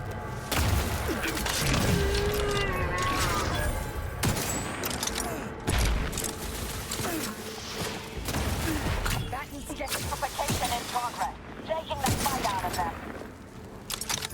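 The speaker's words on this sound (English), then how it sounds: "I think someone has a rocket launcher." Rocket launcher explosions and bursts of gunfire rattle through a firefight in The Outer Worlds 2, dense and continuous with heavy booms and rapid shots, loud and close, mixed with game voices.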